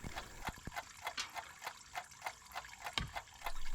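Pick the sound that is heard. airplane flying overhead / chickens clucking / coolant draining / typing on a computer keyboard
coolant draining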